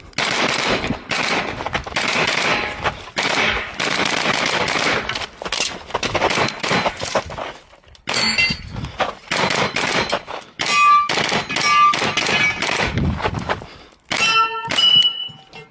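A timed shooting-competition run: rapid bursts of loud, sharp gunshots mixed with ringing clangs and dings of bullets striking steel plates, with a short lull for a reload partway through, close and harsh.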